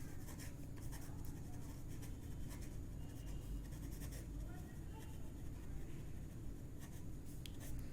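Chalk or marker scratching steadily on a board during a Hindi-language civil engineering surveying lecture, continuous and fairly faint with a teacher's voice speaking alongside.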